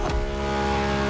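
A Ferrari supercar engine in the racing game The Crew Motorfest, a steady, loud revving drone that holds for about a second with a sharp onset at the start.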